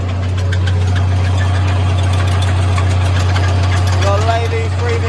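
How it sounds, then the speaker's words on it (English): A Ford 840 tractor, 115 horsepower with a turbocharged 7.4 litre engine, pulls a 3-metre Lely power harrow through a field, giving a loud, close, unbroken drone with a steady low hum throughout. "So, I am currently power harrowing."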